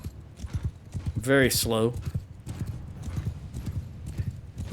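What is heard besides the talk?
horse hooves galloping in Mount & Blade II Bannerlord video game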